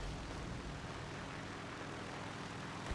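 The propeller engine of an SU2 plane in War Thunder drones steadily at low volume, a continuous rumbling hum with no breaks.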